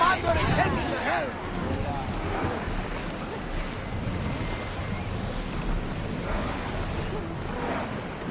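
Ship under sail across open sea in Assassin's Creed Odyssey, with steady surf wash and wind rumbling throughout, waves swelling near and loud beneath faint crew murmur.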